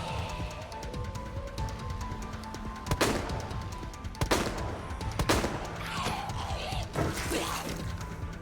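Handgun fire in the video game Resident Evil 2: several sharp, loud single shots spaced a second or two apart, each a crisp crack with a short ringing tail, over a steady game background hum.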